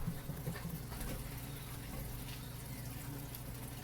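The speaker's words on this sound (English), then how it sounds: "Alright, give them hands a good washing" Hands washed under a running kitchen tap after handling meat while cooking sloppy joe tacos: a steady, continuous wash of water that stays fairly quiet and unbroken throughout, with no talking.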